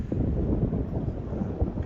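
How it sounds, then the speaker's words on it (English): Wind swirls across a sheltered cove off Norman Island, buffeting the microphone with low, uneven gusty rumbles over a couple of seconds, with no voices. "And the wind is swirling."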